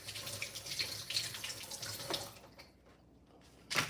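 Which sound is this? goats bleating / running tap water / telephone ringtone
running tap water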